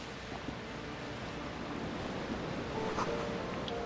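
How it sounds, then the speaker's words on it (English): Waves crashing in the darkness in the game Disco Elysium, a soft, distant surf wash under a hissing wind-like rush, swelling slightly toward the end. "Waves crashing in the darkness."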